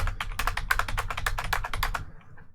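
Rapid keystrokes on a computer keyboard as a short command is typed into a Ubuntu terminal under WSL, a quick close run of clicks for about two seconds, then a brief quiet tail.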